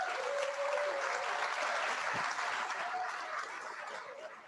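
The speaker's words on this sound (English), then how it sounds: "let's everyone give a nice warm round of applause for Patrick Elliott." An audience at a keynote innovation presentation gives a warm, steady round of applause to welcome a speaker, dense, even clapping that fills the room and gradually tapers off.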